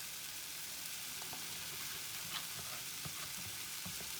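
A bacon mixture sizzles steadily in a hot pan, giving a continuous crackling hiss with small scattered pops and no voices.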